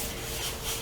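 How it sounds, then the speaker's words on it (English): A folded paper gift box tab rubbed with a fingertip, a brief soft papery swish lasting under a second, close and quiet with no talking. "So just rub it a couple times, just like this."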